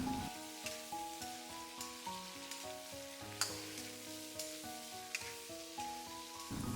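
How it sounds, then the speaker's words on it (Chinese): Green beans, potatoes and sliced shiitake mushrooms are stir-fried in a wok, giving a soft continuous sizzle with rhythmic spatula scrapes and tosses repeating every half second or so, with no voices. "把切好的香菇片加进来，继续翻炒5、6、7、8下"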